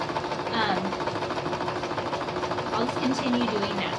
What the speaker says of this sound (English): So I'm just making a zigzag stitch all the way down this side